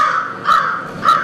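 A crow gives two loud, close caws about half a second apart, each a harsh nasal burst over faint background hiss.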